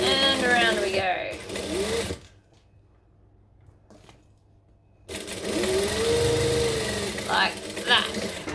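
A sewing machine stitches a saddle bag seam in two steady whirring runs separated by a quiet pause, with someone talking between them.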